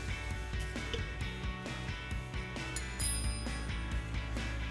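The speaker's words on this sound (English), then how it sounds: "then you just make sure that your bleeder is all the way tightened down" A brake caliper bleeder screw on a 2006-2020 Charger's C&L Performance Series rear caliper is tightened with a tool, giving a rapid run of close metallic ratcheting clicks with no voices.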